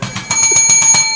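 A small bell rings repeatedly, about eight bright metallic dings in a quick steady rhythm, close and fairly loud, with a sustained ringing tone between strikes.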